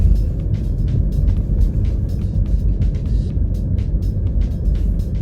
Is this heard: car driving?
yes